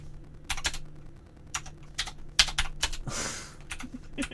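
Computer keyboard being typed on in uneven bursts of crisp key clicks with short pauses between them, close by, and one longer rustling scrape partway through; no speech.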